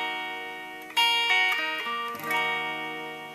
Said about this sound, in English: So you have your first finger barred across the 6th fret.